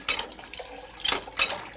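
Dirty municipal supply water splashes from a tap into a vessel, a steady close gush with rising splashy bursts, heard briefly on its own without talk.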